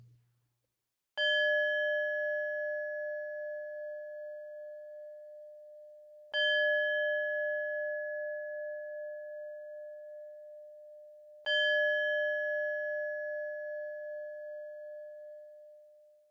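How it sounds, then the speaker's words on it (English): A singing bowl is struck three times at even intervals, each strike a clear, bright tone that rings on and slowly fades under the next, with nothing else audible. "I'll ring my singing bowl, and on the third chime"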